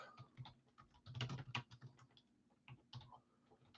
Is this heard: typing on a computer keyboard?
yes